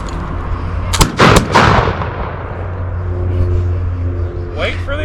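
An 18th-century musket and rifle volley fires in a firing demonstration, a loud close cluster of sharp cracks near the one-second mark that roll off into a rumbling echo, with voices and low background rumble after.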